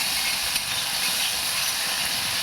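Garlic chutney hitting hot oil with bay leaves, cumin, star anise, asafoetida and curry leaves, giving a loud, steady sizzle and hiss that holds evenly throughout with no talking.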